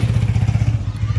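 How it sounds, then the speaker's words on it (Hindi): A motorcycle engine with laser iridium spark plugs runs close and loud, throbbing in a fast, even rhythm with light clatter and no pause. "बाइक का शोर"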